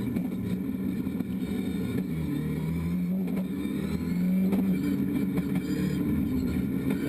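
Rallycross cars racing at the Duivelsbergcircuit in Belgium, engines droning and revving with rising and falling pitch, several cars at moderate distance, continuous for the whole stretch with no voices.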